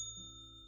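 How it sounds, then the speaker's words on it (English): A small bell rings once with a clear, sustained metallic ding whose bright overtones linger and slowly fade, close and alone. "when you hear this bell"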